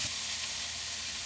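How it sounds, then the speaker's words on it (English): Bacon sizzles as it fries in a pan before going into the oven, giving a steady bright crackling hiss close up, with no voices. "Just kind of rotating them out around the pan little by little to get the bacon done before it goes in the oven"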